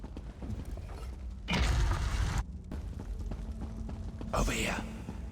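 A heavy door mechanism grinds open in Elder Scrolls Online, with a loud burst of rumbling, rattling machinery in the middle and a fainter creaking clatter near the end, over a low ambient bed.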